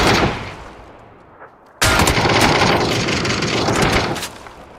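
Gunfire in PUBG from a cheating player using an aimbot to shoot through a wall: a sudden loud burst of rapid automatic fire starts partway in and continues steadily, following a quieter stretch of fading shots.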